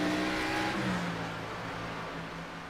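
Race car engines at Phoenix in a racing video game, several cars roaring steadily together and fading slightly as they pull away, with no talk over them.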